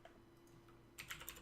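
A computer keyboard with a fault that repeats the S key gets a quick flurry of keystrokes, faint clicking taps bunched into a short burst after a near-silent moment.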